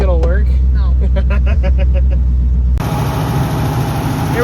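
A steady, loud engine hum from Sally-Bee, an old car on a highway test drive with no gauges, running continuously as the cabin roar shifts midway, with someone talking over it throughout.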